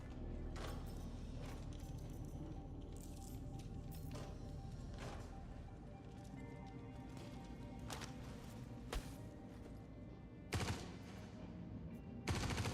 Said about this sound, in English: Somebody's shooting at me.